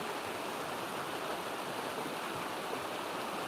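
A flowing stream outdoors in California rushes with an even, unbroken hiss at moderate volume, with no other sounds over it.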